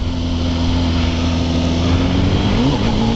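A motorcycle engine held in its power band while the clutch is blipped for a wheelie, a loud steady drone with a sustained hum and a brief pitch wobble near the end as the revs shift.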